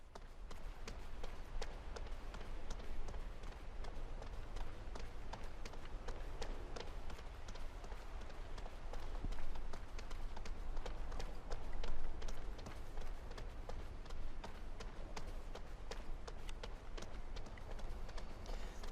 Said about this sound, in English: Thing is, their footsteps are kind of loud.